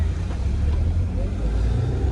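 Queued road traffic near the Atal Tunnel in the Manali mountains, a steady low rumble of idling and slowly moving car engines close by, continuous throughout with a voice talking over it.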